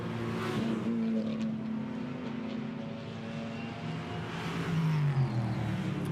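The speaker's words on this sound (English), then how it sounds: "The United Autosport McLarens out on the track, going to help each other around the circuit." United Autosport McLaren GT4 race cars circle the Barcelona circuit in qualifying, running nose to tail; a steady engine drone holds, then a nearer car swells louder with a falling pitch as it passes.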